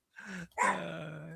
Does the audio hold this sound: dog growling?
yes